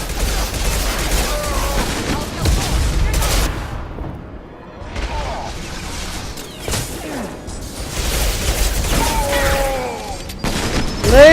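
Missile explosions and gunfire fill a Mass Effect 2 battle against charging Krogan, with rolling booms, bursts of shots and whooshes layered over continuous combat noise and occasional shouted voices, loud and dense throughout.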